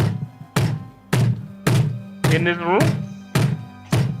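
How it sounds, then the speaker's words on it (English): Eight heavy, evenly spaced bangs thud through a room, each one loud and close, while a voice briefly asks a question between them. "there's a banging coming from this room"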